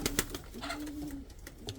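A pigeon coos softly nearby in short low warbling calls, with faint background noise around it.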